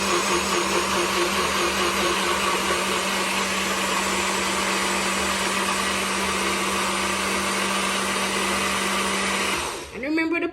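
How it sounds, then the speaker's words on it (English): A NutriBullet blender whirs loudly and steadily while blending cooked pumpkin for Jamaican pumpkin punch, a constant high motor drone that winds down and stops near the end. "blending is fairly simple, especially when you're using a NutriBullet"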